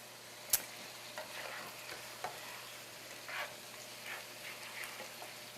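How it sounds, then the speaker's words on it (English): Shrimp and grits are stirred in a hot pan, with a soft sizzle and scattered scraping and clinking of the utensil against the pan, one sharper knock near the start, and no talk. "we're going to stir this around"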